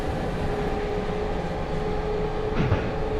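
A train in the snowy railway game Running Train rolls on with a steady, dense rumble and rail roar, wheels locked on low grip, with a brief squealing sweep near the end; no talking.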